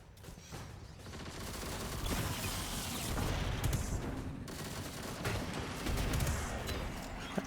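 Gunfire in Destiny 2 during Onslaught, rapid bursts of shots and mechanical clatter layered over a busy game soundscape, swelling and easing across several seconds.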